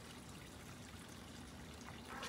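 A flowing winter creek gives off a continuous soft trickle and babble of water, steady and fairly quiet throughout, heard outdoors with no speech.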